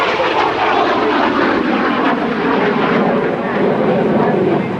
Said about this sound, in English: in this F-86 Sabre jet